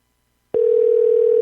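During a radio show, a telephone line sounds after a moment of silence: a single steady, fairly loud tone starts abruptly and holds unbroken to the end.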